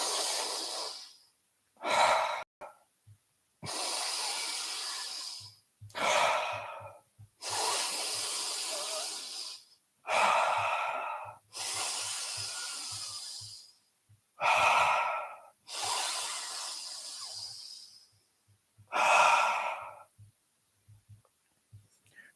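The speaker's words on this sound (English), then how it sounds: "Halfway, continue to breathe." Slow, deep breaths taken in a pranayama exercise during a morning satsang, about ten long inhales and exhales in a steady rhythm, each a soft airy rush close to the microphone with brief pauses between.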